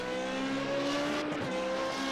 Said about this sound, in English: Look at the acceleration of this car.